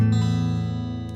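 A guitar chord, fretted with the pinky on the second fret of the third string, rings out as one full strum that sustains evenly and slowly fades, played alone with no talk.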